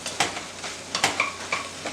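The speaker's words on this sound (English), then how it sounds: "Go ahead and take your Orzo and add it to the damn pan" Dry orzo pasta pours into a hot pan beside crispy bacon and spinach, giving a light sizzle with scattered clinks and scraping stirs, close and moderately quiet, with no talking.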